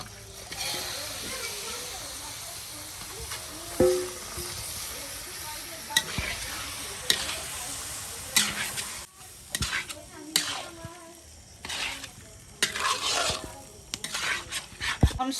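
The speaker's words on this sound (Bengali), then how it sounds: "এই যে মশলায় তেল ছেড়ে দিচ্ছে, আমি এখন মাংস দিয়ে দেবো" Meat hits hot spiced oil in a pan and sizzles and fries steadily, with repeated scraping and clanking stir strokes toward the end, under occasional voices.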